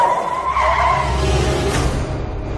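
A car's tires skid and squeal as it brakes hard to a sudden stop, a loud close screech over engine rumble that trails off after a couple of seconds.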